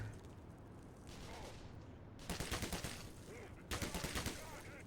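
Bursts of rapid enemy gunfire in Black Mesa, two sharp clusters of shots over a rumbling background, fairly faint and slightly distant.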